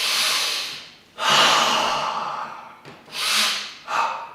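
Deep breaths in and out during an exercise routine, close and loud, with long airy inhales and sighing exhales in a slow rhythm and no talk.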